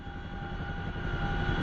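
A Chinook helicopter engine in the flight simulator DCS drones steadily with a loud, constant rotor and turbine hum, broad and unbroken, with no voices.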